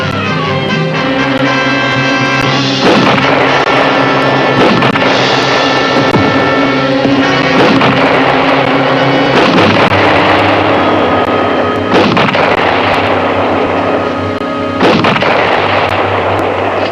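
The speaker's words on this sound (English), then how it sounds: "Stop shooting, Daniel." Gunfire in a frontier western drama, a rapid run of loud, sharp reports and booming blasts repeating over about seventeen seconds, dense and continuous with no talking.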